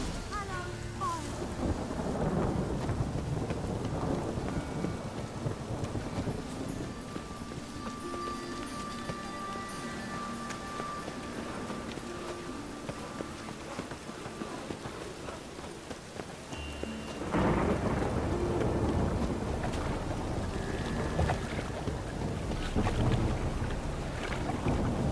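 Steady heavy rain with rolling thunder during a thunderstorm in The Witcher 3: Wild Hunt, a dense continuous wash that swells louder in the second half, with low rumbles underneath and no voices.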